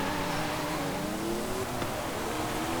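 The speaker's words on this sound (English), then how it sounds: "As per usual with a Porsche like this, it's got excellent off the line traction because of the engine being over the rear wheels. Revving quite highly" A Porsche engine revving high in the racing game Forza Horizon 5 during a sandstorm, a steady, strained engine whine with rising tones over constant wind-like noise, with no speech.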